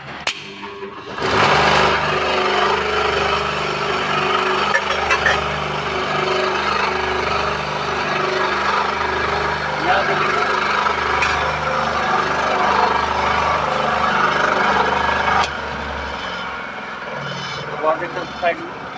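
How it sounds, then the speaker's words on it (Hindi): A squirrel cage induction motor switches on after a push-button start and then runs with a steady, loud hum that drops away near the end, while someone talks over it in Hindi. "इसको जैसे ही पुश करेंगे तो क्लोज हो जाएगा और ये मोटर चलना शुरू हो जाएगा"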